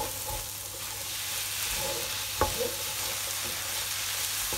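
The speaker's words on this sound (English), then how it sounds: "now I've been stirring that through for about, I'd say 2 minutes" Minced meat with red onion and red capsicum being stirred through in a pan, giving a low, even sizzle with soft scraping and one sharper clink partway through; no talking.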